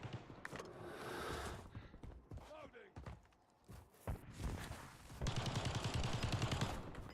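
Video game gunfire from a sniper firefight in the mountains, scattered single shots and then a dense rapid burst near the end, loud and close.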